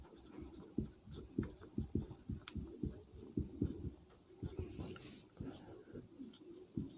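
A marker or chalk writes notes on a board during a Hindi history lesson. Quick scratching strokes come in an uneven rhythm, close and fairly quiet.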